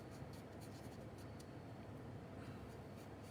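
A Derwent pastel pencil shading on paper makes a soft, continuous scratchy rasp with faint repeated strokes, close and quiet with no talking.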